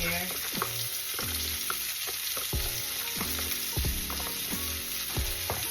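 Garlic fries in melted butter in a pan over moderate heat with a continuous close sizzle, and a utensil stirring and scraping at the pan in repeated strokes, with no talking.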